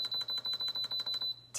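An Instant Pot control panel beeps as its cooking timer is set, a rapid series of about ten short, bright electronic beeps close by, followed by a brief pause and one more beep at the end.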